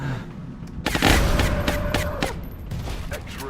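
A rocket blast in the XCOM strategy game, a heavy boom followed by crackling debris and scattered impacts, fairly loud with a fading rumble and no speech.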